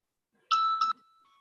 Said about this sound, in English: So the intimation has come on my phone because I'm using UPI